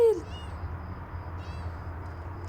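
Sibil, a new pet cat, gives a close meow right at the start, then softer mews follow at intervals over steady low household background noise.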